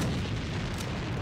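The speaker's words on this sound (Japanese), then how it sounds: "手榴弾を使うぞ。" A hand grenade explosion in a combat game sounds as a short, heavy, rumbling boom that fills the whole brief moment with dense low-frequency roar and no voices.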